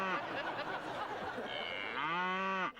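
A cow on a farm moos just after giving birth to a calf: a long, loud, close lowing call that swells and then breaks off abruptly at the end.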